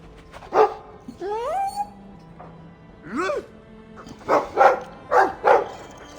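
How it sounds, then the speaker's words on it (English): Dog barks from the fantasy RPG Dragon Age 2, a few separate yaps and whines spread across the moment, mixed with game voices and tonal effects. "I like the doggy."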